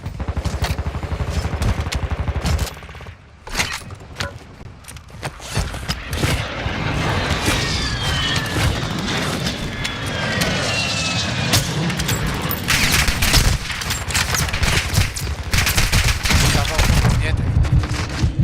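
Dense, loud gunfire from the video game Modern Warfare 2, rapid automatic shots and booms layered nearly nonstop, with a voice talking intermittently over the din.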